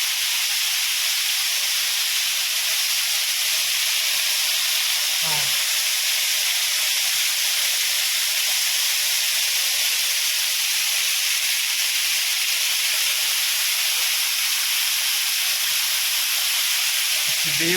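Darbadi waterfall at Daringbadi in Kandhamal, a constant loud broadband rush of falling water that continues unbroken, with a brief faint voice once.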